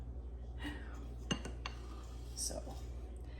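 A spoon clinks against a bowl a few times while stirring broth, light metallic taps over a steady low background hum.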